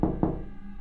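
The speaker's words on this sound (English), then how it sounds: "It sounded like a faint knock." Two dull, low knocks in quick succession on a basement door late at night, soft and muffled, fading into a quiet hum.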